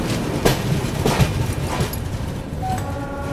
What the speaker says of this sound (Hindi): ऊपर से ब्रिज पे से निकल रही है कोलकाता लोकल